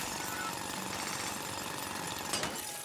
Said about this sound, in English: Now drill.